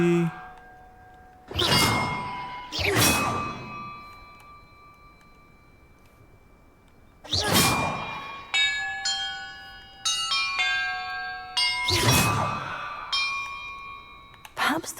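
Bells in Hogwarts Legacy ring out in separate bright clangs with long shimmering tails, a few spaced strikes and then a quicker run of tones, each fading before the next.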